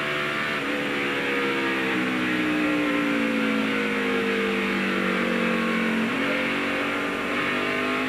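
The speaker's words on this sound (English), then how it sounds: "Dale Earnhardt Incorporated cars of Steve Park and Dale Earnhardt Jr. battling for the 7th and 8th position." NASCAR stock cars of Dale Earnhardt Jr. and Steve Park racing at the 2000 Pontiac Excitement 400, a continuous loud roar of engines with a pitch that slides down then jumps as cars pass, steady crowd-like track noise beneath.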